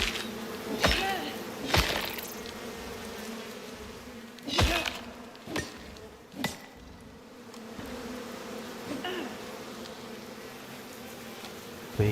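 An insect hive in the survival game Icarus gives off a steady droning buzz, broken by several sharp, loud thwacking hits at uneven intervals.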